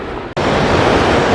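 Mountain waterfall on a hike in the Pyrenees, a loud, steady broadband rush of falling water that fills the scene after a brief dropout, with no voices.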